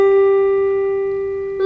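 A single sustained musical note G rings out clean and steady, fading slightly as it holds, with nothing else underneath.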